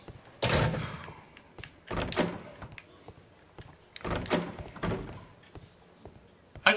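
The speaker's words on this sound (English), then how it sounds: "He'll close the door on me." A door closing in the Sherlock Holmes: Crimes and Punishment video game, heard as several heavy, fairly loud thuds and knocks spaced across the moment, with a sharp knock at the very end.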